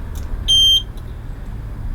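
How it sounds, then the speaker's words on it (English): A single short, sharp electronic chirp from a caravan alarm being armed with its key fob, heard once over a low background hum, with no talking. "The second button down, 1 chirp, arms it."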